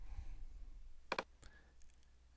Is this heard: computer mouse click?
yes